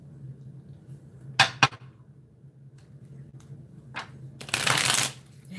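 Tarot cards riffled and pulled from the deck in a reading, with two sharp flicks, a brief slide, then a longer shuffle burst near the end over a quiet room hum, no talking.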